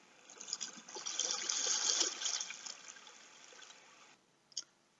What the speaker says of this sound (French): On les entend nager sur l'eau.